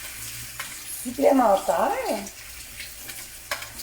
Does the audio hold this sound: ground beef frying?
yes